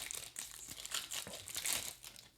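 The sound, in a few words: opening a Wilds of Eldraine booster pack wrapper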